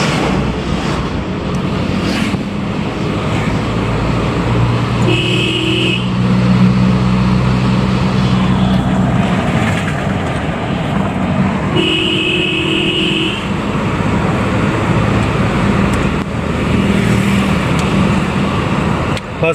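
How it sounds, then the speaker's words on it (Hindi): A Mahindra Scorpio m-Hawk pickup cruises at speed at normal RPM, a steady engine drone mixed with road and wind rumble from inside the cabin, with brief faint chimes now and then. "गाड़ी अच्छी खासी स्पीड में चल रही है"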